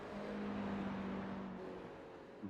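A GT3 race car in an endurance racing video game drones past as a steady, smooth engine tone that holds for over a second, then shifts lower and fades slightly, with no talk over it.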